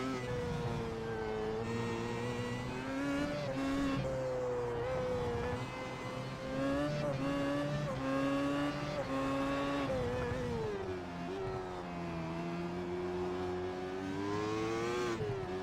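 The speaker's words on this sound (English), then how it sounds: "We're going to go on board with the Team Radical Simulate Steel Series car as he works himself down" Onboard engine of a Team Radical Simulate Steel Series race car in iRacing at Okayama, a steady loud drone that rises and falls with revs through shifts and corners, continuous throughout with no talk over it.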